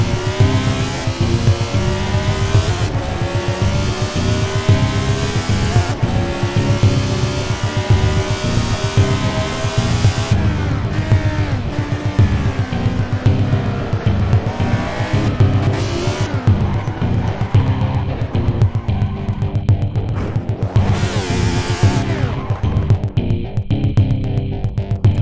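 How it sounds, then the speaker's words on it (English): A 1975 Formula 1 race car in Assetto Corsa at a New York race roars loudly and steadily, with engine revs rising and falling, tyre scrubbing and a skid as it is shoved into a barrier, with no talking. "you didn't even spin me round, it just pushed me square into the barrier"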